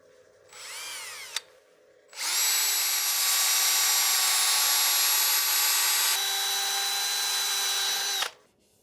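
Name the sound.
sanding wooden platter on lathe with 220 grit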